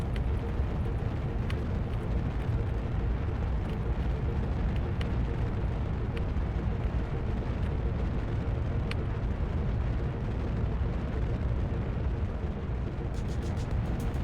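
A multi-engine Octo 2 rocket launcher in Kerbal Space Program roars in flight with a steady, dense, loud rumble that holds unbroken throughout, with no voices.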